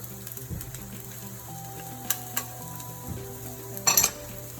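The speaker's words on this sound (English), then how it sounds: "We have 3 tablespoons of virgin olive oil in here. And next, we're going to add our garlic" Four garlic cloves sizzle in three tablespoons of virgin olive oil in a pan, a steady close crackle with a few sharp metallic clinks of a utensil stirring against the pan, no voices.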